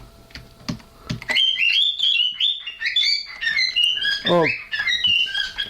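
A bird chirps in quick, high, warbling bursts close by, with a brief descending trill, alongside scattered keyboard clicks and a short spoken word.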